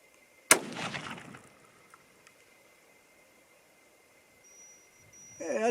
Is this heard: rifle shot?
yes